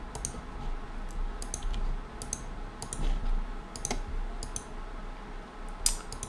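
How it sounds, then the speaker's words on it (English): Close, crisp mouse clicks repeat in irregular bursts, some doubled, over a constant background hum during AQW computer gameplay. Clicks are moderately loud and spread across the whole stretch, with one sharper click near the end. "I'm just clicking."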